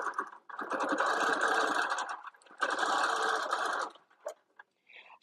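A sewing machine stitching a leaf fill pattern, two sustained bursts of rapid mechanical whirring and needle chatter separated by a brief pause, close and loud, ending with a few short clicks.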